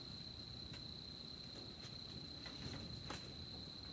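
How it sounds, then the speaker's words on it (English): An indoor cricket keeps up a steady, high, thin chirp with a few louder sharp clicks on top, constant and moderately faint. "I will find that cricket as soon as I'm done with this video."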